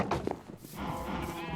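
A sheep bleats in the Minecraft video game. Two short, nasal bleats sound close, followed by a steady buzzing game-world drone.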